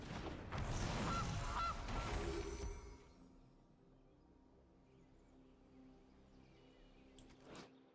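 A goose honks from the Gilded Goose card in the video game MTG Arena, a loud burst of honking for a few seconds that gives way to quiet, faint game sounds and a small blip near the end.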